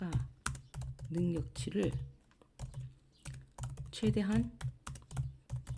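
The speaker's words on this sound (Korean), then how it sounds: "여기 타이핑을 해볼게요." Rapid clicking keystrokes on a computer keyboard, continuous and close, with someone speaking Korean over the typing throughout.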